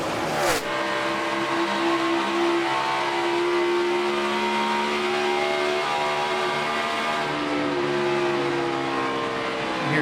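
A NASCAR Sprint Cup car at Atlanta's 2014 Oral-B USA 500, engine note rising and falling as the driver eases off and back onto the throttle, loud and close, a sustained onboard roar with shifting pitch.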